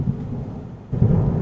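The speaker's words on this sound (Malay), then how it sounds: "Hari ga hujan." Heavy rain with a deep rolling rumble of thunder, a steady low roar that dips briefly then surges louder, close and without voices.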